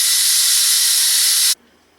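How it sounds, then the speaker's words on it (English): Steam blasts from a pressure cooker's release valve, opened with a knife after cooking Cajun chicken pasta: a loud, steady hiss for about a second and a half that cuts off abruptly, followed by near silence and a small click. "now that my pressure cooker is done, I'm going to release the steam"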